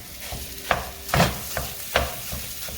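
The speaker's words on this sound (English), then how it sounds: "I'm gonna cook it till it's all the way brown" Sausage browning in a pan sizzles under a few distinct scraping stirs of a utensil, close and moderately loud, with no talking.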